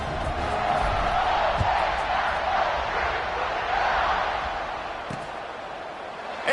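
Home crowd at a Purdue football game roars in a steady, dense wash of cheering throughout, with a couple of sharp thuds and a slight fade toward the end.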